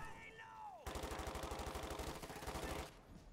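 Fallschirmjäger infantry in Company of Heroes 2 stand and fire a sustained, evenly spaced volley of rifle and automatic gunfire lasting about two seconds. The shots are loud and close, after a brief falling whistle.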